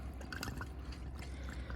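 Water flushing out of the open flush valve of a RODI pure water system used for window cleaning, a steady low rushing flow with faint drips and trickles over a constant hum.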